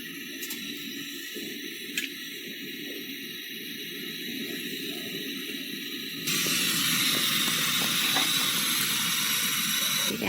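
A portable foldable butane gas oven burns steadily under a pot of 150 ml of water, giving a continuous soft hiss that turns louder and broader partway through as heating picks up, with no talk.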